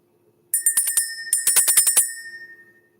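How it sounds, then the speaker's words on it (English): A bell rung to clear energy before a spiritual card reading gives a quick run of bright, close ringing strikes in two bursts, each shimmering tone overlapping the next before fading away. "we're going to go ahead and ring the bell"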